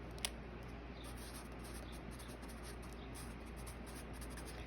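Equations being written on a board in a classroom: faint, rhythmic scratching strokes of a marker or chalk, close and continuous over a steady low hum, with a single sharp tap at the start and no talking.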